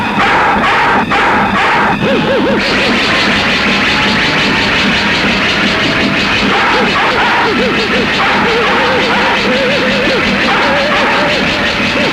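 A pet dog barks loudly in a film scene, giving a rapid string of sharp barks and yips mixed with whimpering howls that continue, close and insistent, throughout.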